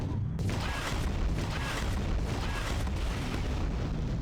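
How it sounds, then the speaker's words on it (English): Missile explosion in Quake 2, a loud, dense, sustained roar of blast noise filling the clip after a brief quieter start, with faint tonal blips over it. "One more missile."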